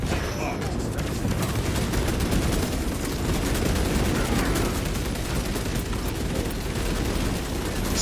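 Heavy gunfire in Space Marine 2, a dense, continuous barrage of rapid shots and booms sustained for the whole stretch at high loudness, with a game voice faintly mixed in early on.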